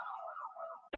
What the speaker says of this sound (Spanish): se cortó un poco, creo, por la ambulancia que vino